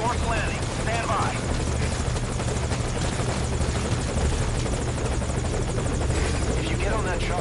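Military helicopter in Metal Gear Solid V: Ground Zeroes, a steady loud rotor drone with a rhythmic blade chop holding through the whole stretch, with game voices and radio chatter over it.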